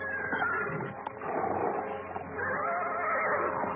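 A horse whinnies loudly and continuously through a dense, busy background, rising and falling over several seconds with no talk.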